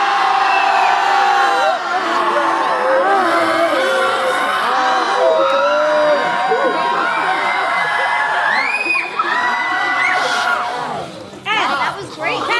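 A group of teen theater campers at a Maine summer camp scream together in a loud, sustained, unified shout with whoops and yells, lasting about eleven seconds before breaking into scattered cheers.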